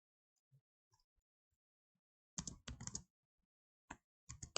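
Typing C++ code on a computer keyboard: short clusters of soft, rapid keystrokes separated by quiet gaps, close and fairly faint in a hushed room.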